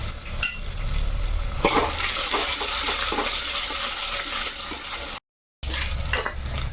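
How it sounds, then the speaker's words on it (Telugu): Onions fry in a pan until brown, a continuous sizzle broken by repeated clinks and scrapes of a spoon stirring against metal, with a brief dropout near the end. "చక్కగా బ్రౌన్ కలర్ వచ్చేంత వరకు వేయించుకోవాలి ఉల్లిపాయ"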